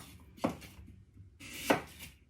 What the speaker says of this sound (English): carry on like that, cutting them into matchsticks